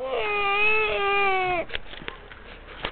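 A young child cries in a high, wavering wail for about a second and a half, then it breaks off into softer whimpers and scattered small noises close by.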